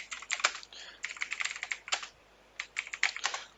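Someone types a Google search on a computer keyboard in quick, close, irregular bursts of key clicks with short pauses between words.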